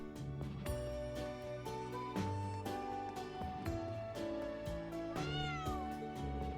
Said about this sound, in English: Oh, look, what an adorable black cat.